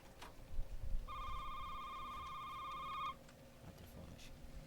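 A telephone rings inside the horror video game Shift At Midnight, a steady electronic bell tone held for about two seconds over low ambient background noise.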